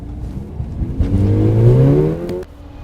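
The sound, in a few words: high-performance car accelerating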